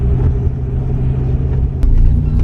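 Manual transmission car engine rumbling low and steady up close as gas is applied in first gear, with a slight rise in intensity near the end.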